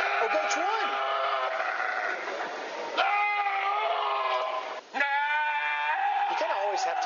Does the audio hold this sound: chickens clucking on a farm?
no